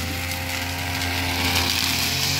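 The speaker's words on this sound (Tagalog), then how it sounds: "yung tauhan natin na si Leopoldo Umbiang ay kasalukuyang nag-grass cutter sa nililipatan ng ating munting manukan dito sa area" A grass cutter (brush cutter) mowing grass on a farm, a steady high-pitched motor whine with a buzzing edge, loud and close, holding constant throughout.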